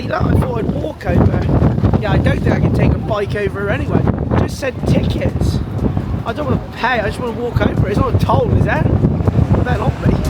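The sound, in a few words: strong wind blowing into the microphone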